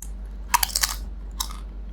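A big crunchy bite into a Taco Bell chicken item, with a crisp burst of crackling crunches followed by a second, smaller crunch about a second later, close and fairly loud over a steady low hum.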